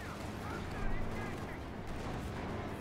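Artillery in a Company of Heroes 2 match pounds away inside a dense, continuous wash of battle noise, rumbling steadily and loudly throughout with no distinct pauses.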